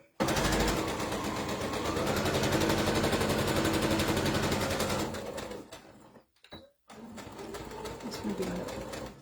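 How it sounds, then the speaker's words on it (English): Domestic sewing machine stitching steadily and loudly for about five seconds, then stopping briefly before running again in a short reverse-stitch burst, close up with a rapid mechanical rhythm. "Just going to do a little reverse stitch"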